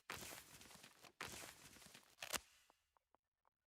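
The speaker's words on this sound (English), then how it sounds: "I can hear footsteps." Footsteps in the video game Delta Force, a fast run of steps at steady volume that breaks off, followed by a few faint isolated taps.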